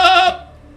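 A person imitates a goat with a short nasal bleat, one loud wavering call that fades quickly, heard alone and close.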